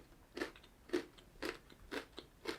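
Peanut Butter Flipz chocolate-covered pretzels being bitten and chewed up close, five distinct crisp crunches spaced about half a second apart, no talking.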